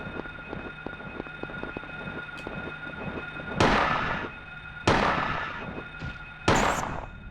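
Three loud, sharp gunshots spaced about a second apart at a flying enemy in the video game Silent Hill, each with a trailing echo, over a steady humming game background.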